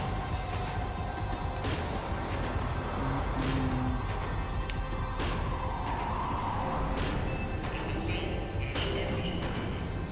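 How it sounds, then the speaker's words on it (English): A tram in Max Payne 3 slows down with steady rumble and metallic wheel squeal, continuous and close throughout, with faint sounds layered over the rolling noise. "The tram was slowing down, and I'd only just gotten on board."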